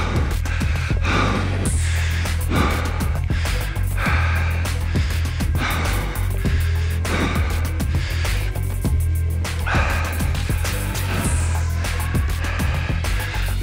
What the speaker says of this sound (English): breathing heavy, trying to stay ahead of my breathing